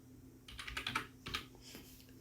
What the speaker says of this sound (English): Then I type bookings.